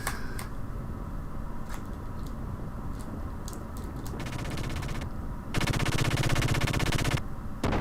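Rapid gunfire from a giant robot in the game Xenogears rattles in dense machine-gun bursts, with several pauses, then a louder sustained burst near the end, loud and continuous.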